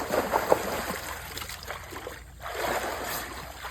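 Water splashing and trickling as someone bathes in a shallow stream near Kanyakumari, soft irregular splashes over a steady flowing background, fairly close and moderately quiet.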